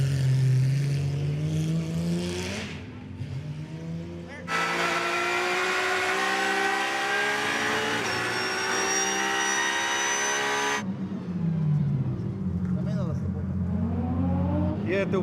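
A Porsche GT3R race car engine roars loud and close, climbing through revs and shifting gears in sustained high-pitched bursts, with tire noise and onboard wind mixed in and no talk over it.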